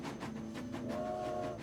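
A steady rhythmic clatter of train wheels over rail joints rolls along with a low rumble, joined by a sustained whistle-like tone partway through, as a train carries Geronimo and his band toward Florida in 1886.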